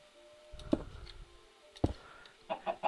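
A chicken stuck down in a ravine in Minecraft gives short clucks, with two sharp bursts early on and a quick run of softer clucks near the end over a quiet background.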